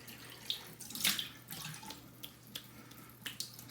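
Cold water from a tap runs steadily into a sink at moderate loudness, broken by splashes and a few sharper clicks and knocks, with no voices.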